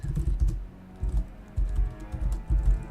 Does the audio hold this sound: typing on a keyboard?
yes